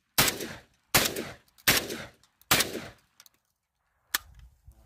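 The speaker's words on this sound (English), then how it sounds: "shooting a shotgun" A Garaysar Fear-103 Turkishnikov semi-auto shotgun fires four loud, booming shots spaced under a second apart, then a fifth shot after a pause, each with a short echoing tail, outdoors.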